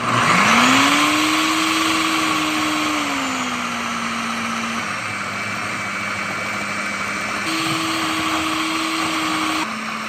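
A Ninja food processor whirs steadily as it blends pepper jack, smoked Gouda and sharp cheddar, a loud, close motor drone whose pitch dips midway and climbs again near the end, with no talking.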